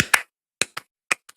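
Hand claps from a song, five or six sharp, dry, isolated claps in quick irregular succession, loud and close with silence between them.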